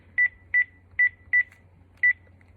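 A telephone being dialed, five short beeping keypad tones in an uneven rhythm, clear and close over quiet background.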